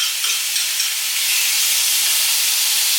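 Shrimp frittata egg mixture with garlic and paprika hitting a hot pan, giving a steady, loud, close sizzle and hiss that continues without a pause and with no one speaking.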